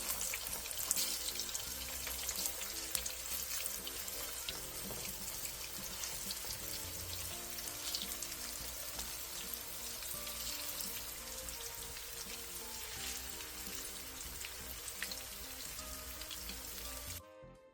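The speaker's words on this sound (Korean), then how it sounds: "팬에 기름을 살짝 넉넉하게 둘러 중불에서 예열한 뒤 두부를 올려주고 두부의 모든 면을 노릇노릇하게 구워주세요." Tofu pan-frying over medium heat in a generous layer of oil, half submerged, gives a dense, continuous sizzle and crackle that holds steady throughout before cutting off abruptly at the end.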